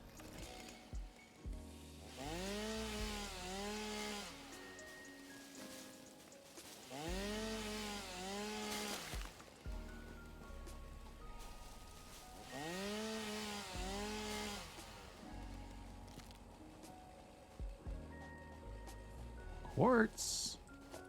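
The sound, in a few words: chainsaw cutting in the video game Satisfactory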